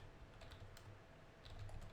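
Faint keystrokes patter on a computer keyboard in a quiet room, soft irregular clicks in short bursts, a little denser toward the end.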